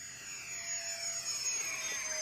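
An RC model jet at full throttle makes a steady, high-pitched turbine whine with a rising and falling sweep as it passes, moderately distant and heard alone.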